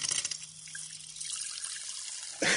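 Carbonated water poured into a glass of red cabbage solution, a brief close hiss and trickle of liquid that fades out, ending with a sharper splash.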